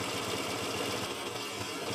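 Honda Vario 125 scooter engine running after warming up in a workshop, a steady buzzing mechanical hum with a fast even pulse, close and continuous with no talk.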